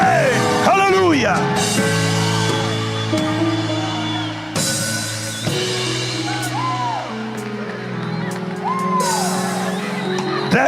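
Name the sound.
congregation shouting amen and hallelujah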